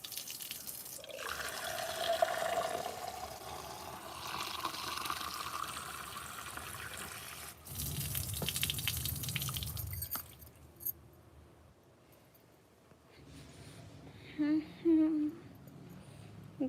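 Water pours and splashes into a glass at home, a steady liquid rush with drips and small clinks, followed by quieter handling sounds and a short burst of voices near the end.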